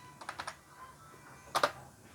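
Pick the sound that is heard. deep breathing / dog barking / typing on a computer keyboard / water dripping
typing on a computer keyboard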